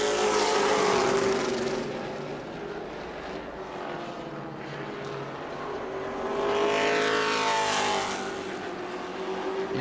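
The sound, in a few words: race cars on the front straightaway at New Smyrna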